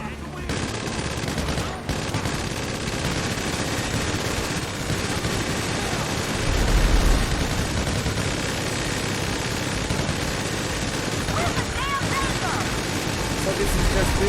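Dense, continuous automatic gunfire fills a heist shootout in GTA 5 Online, loud and relentless for the whole stretch, with voices talking underneath the shooting.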